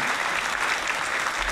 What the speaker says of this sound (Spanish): Aplauso por la psicóloga de Jonator